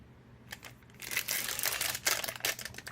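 Crinkly plastic packaging being torn open on a Pokémon card box, bursts of crumpling and rustling that grow busier after a quiet start, close up with no talking.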